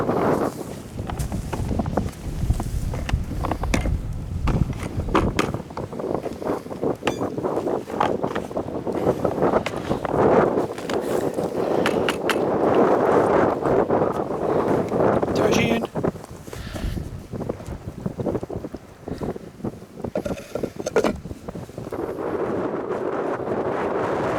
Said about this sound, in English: Not being helped by the wind, but we'll get it sorted.